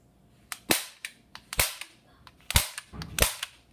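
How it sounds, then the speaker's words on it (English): A semi-automatic airsoft gun, a Combat Zone Enforcer, fires a series of sharp snapping shots, several in irregular succession, close and loud, each leaving a short tail of rattle between quiet gaps. "This is a semi-automatic gun."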